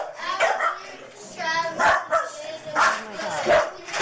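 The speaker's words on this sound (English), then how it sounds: "Is that a dog in there with them?" A dog barks and yips in sharp, repeated bursts close by, mixed with whimpering, while people talk over and between the barks.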